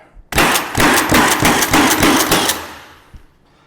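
A Milwaukee M18 Fuel cordless coil roofing nailer fires a rapid burst of about eight to ten loud, close nail shots in a rhythmic volley. The burst lasts roughly two seconds, then the shots fade into echo.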